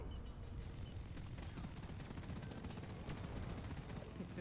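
Rapid, sustained gunfire in a shooter video game, dense volleys of shots at low volume with talking mixed in.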